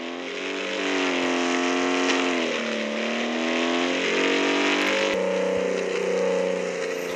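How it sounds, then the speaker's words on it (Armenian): A car in a video game rolls slowly along a road, its engine a steady, loud drone whose pitch drifts gently up and down throughout, with no talking. "Ես դանդաղ եմ քշում"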